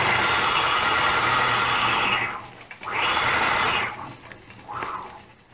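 A sewing machine runs in fast, steady bursts while quilting, stitching in the ditch along pieced seams, whirring loudly for about two seconds, pausing briefly, then starting and stopping again in shorter runs.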